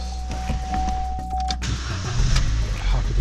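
A Vauxhall Corsa with an intermittent no-start fault cranks and fires up, a brief whine and clicks giving way to a close, steady engine rumble that grows slightly louder as it settles into running.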